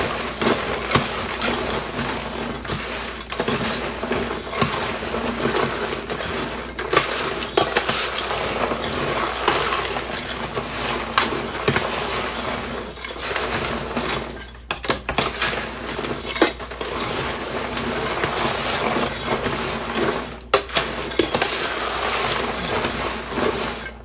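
Eggnog coating being stirred into hot popcorn in a bowl, a continuous dense rustling and scraping with clinks of utensil against the bowl, close and fairly loud, with no talk.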